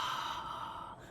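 One deep breath drawn in through the mouth as a breathing demonstration, a soft, airy inhale close to the mic that fades out after about a second.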